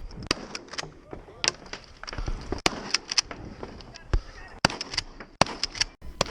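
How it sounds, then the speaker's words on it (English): Sharp reports from a Mossberg 590M pump-action shotgun at a 3-gun match, firing in an irregular string of cracks with short gaps, the pace slowing as the stage goes on. "You may notice that the cadence of my shots slows down the further I get into this stage"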